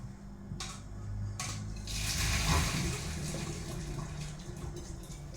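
Water from a pot of cooked pasta poured off into a sink, a steady rushing splash that swells in the middle and stays continuous, with a faint low hum underneath and no talk.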